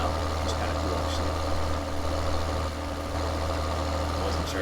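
Steady low tractor engine idle in Farming Simulator 2013, a constant rumble with a hum running throughout and no breaks.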